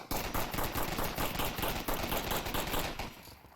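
Dense rapid gunfire in the VR shooter Onward, a continuous rattling burst of many close shots lasting a few seconds before it cuts off.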